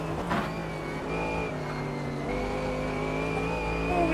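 Race cars in the Automobilista 2 sim, a faster car closing and coming around: steady engine drone with rising pitched whine as another car approaches and swells louder at the end, no voices.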